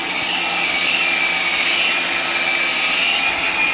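A large floor polishing machine grinds the stone floor of a newly built room, giving a loud, continuous whirring roar with a high hiss that stays steady throughout.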